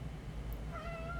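A cat lets out one faint, rising meow partway through, set against a quiet background hum.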